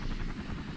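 American helicopter in the game Battlefield Vietnam, a steady low rotor drone with broad rumble, holding at an even loudness through a short stretch with no voices.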